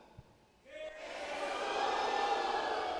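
A church congregation cries out loudly together in worship, a sudden swell of many voices that rises after a brief quiet moment and holds as a sustained, dense roar of shouting.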